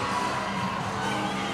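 A packed high school volleyball crowd at a crosstown rivalry match gives off a dense, steady roar of cheering and chatter, loud and continuous throughout the brief moment.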